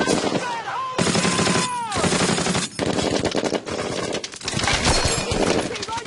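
Sustained automatic gunfire in a Band of Brothers World War II combat game during a building assault, loud and continuous with dense rapid bursts and brief gaps, shouted voices mixed underneath.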